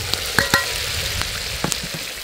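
Chopped onion tossed into a pot over an open campfire, a steady close sizzle of frying with a few sharp clinks and scrapes of stirring with a stick.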